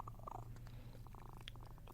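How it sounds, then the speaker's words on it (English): A new pet kitten named Missy purrs softly on her way to the vet for spaying, a faint continuous rumbling purr with a few small chirps over steady background hum. "Shh, Missy, relax. My new kitty, spaying time, on her way to the vet."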